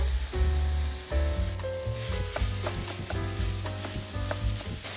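Ground meat fries in a pan with garlic for a gluten-free shepherd's pie, giving a soft, continuous sizzle with stirring scrapes. Gentle background music plays over it.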